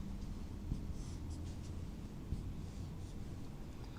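Marker or chalk writing on a board during a chemistry lesson, a faint continuous scratchy squeak with short strokes over a steady low room hum, no talking.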